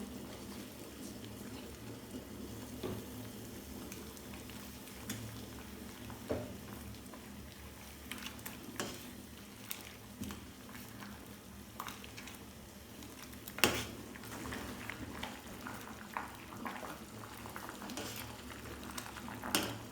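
Rosella flower syrup with pandan leaves boils steadily in a pot while it is stirred, giving a continuous soft bubbling and patter with occasional small clinks and splashes throughout.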